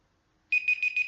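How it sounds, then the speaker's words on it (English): A kitchen-style timer goes off in a quiet room: after a short silence, four bright, evenly spaced electronic beeps ring out close and clear. "that's the timer"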